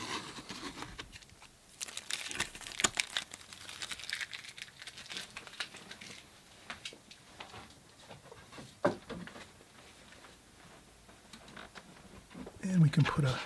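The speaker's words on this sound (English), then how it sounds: "So if we can let it, we'll peel off the tape." Tape is peeled slowly off the paper of a watercolor painting of springtime trees, giving close, continuous crinkling and ripping with scattered sharp tearing bursts, while a voice talks over it.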